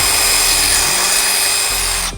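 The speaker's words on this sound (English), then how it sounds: "Now we're going to take a 1/4-inch drill bit to drill out the two marks that we just made." A 1/4-inch drill bit bores through a plastic bumper while a 2023 Cree XTE 150W LED bumper bar is installed. The drill whines in a loud, steady, close-up grind, then stops abruptly at the end.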